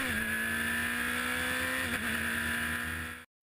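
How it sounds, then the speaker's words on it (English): Prototype Lites race cars at Mazda Raceway Laguna Seca (2012) come around turn 11 onto the front straight toward the green flag, engines droning loud and steady with a brief dip in pitch midway before the sound cuts out abruptly. "the cars come around turn 11, onto the front straight to take the green flag"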